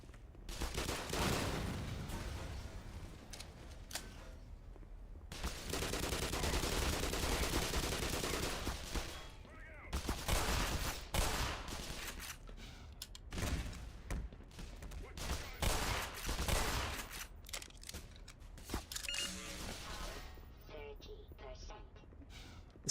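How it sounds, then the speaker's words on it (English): Gunfire in the video game Black Mesa, loud, aggressive bursts and rapid volleys coming in dense clusters through most of the stretch, with a person talking at times over the shooting. "The sound design of the guns in this is really cool. It's really aggressive and loud."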